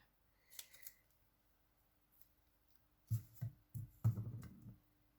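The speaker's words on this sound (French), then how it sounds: "Je coupe un petit bout qui dépassait." A few quiet snips of scissors cutting off a small protruding piece, a light click early on and then a short cluster of soft close cuts near the end, alone with no talk.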